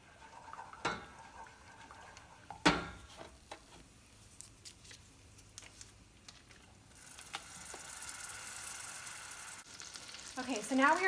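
Butter is dropped into a hot sugar mixture for caramel, giving soft sizzling and bubbling with scattered clinks and stirring sounds at close range. The sizzle builds louder toward the end.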